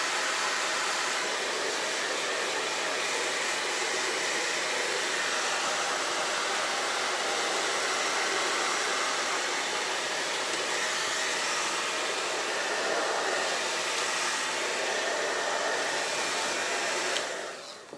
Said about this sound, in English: I'm gonna go ahead and dry this.